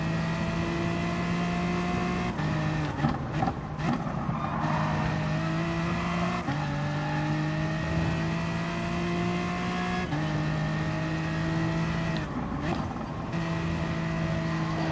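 A Subaru race car engine in the racing video game Gran Turismo, droning steadily and loudly throughout with rising and falling revs at gear changes and brief tire squeals, heard from inside the car without talk.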